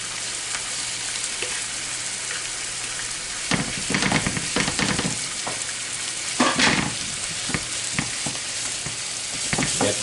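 Smoked herring fillets in oil sizzle and fry steadily in a pan, with louder crackling bursts and stirring scrapes as they warm through, close and without talk.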